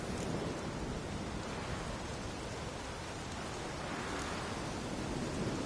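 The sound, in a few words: storm with rain and thunder in The Witcher 3 video game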